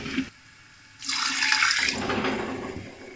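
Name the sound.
water poured into roasting gram flour (besan) in pan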